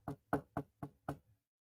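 Five firm knocks on a door in a quick, even rhythm, close and clear against silence, with a softer sixth tap trailing off.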